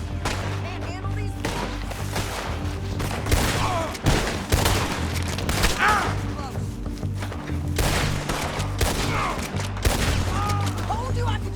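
A loud, sustained fusillade of gunfire in the video game Red Dead Redemption 2 rolls on for about eleven seconds as dense overlapping shots and booms with scattered wooden splintering sounds, while a voice speaks briefly.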